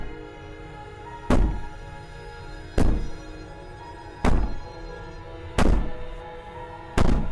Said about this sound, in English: Maybe the banging and wailing will stop if you just don't pay attention to it